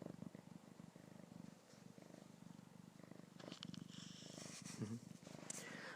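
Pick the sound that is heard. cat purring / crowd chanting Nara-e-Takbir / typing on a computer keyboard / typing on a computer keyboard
cat purring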